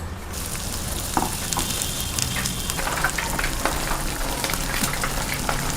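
Garlic and egg frying in a pan for a spicy Andhra egg fry, a dense continuous sizzle with scattered pops and crackles, close and steady throughout, no talking.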